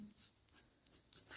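A thin-tipped Copic marker drawing fine lines on card, heard as faint, short, scratchy strokes repeating in a loose rhythm, close and quiet with no talking.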